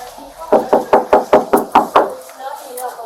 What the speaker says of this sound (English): they'd come knocking on her door one final time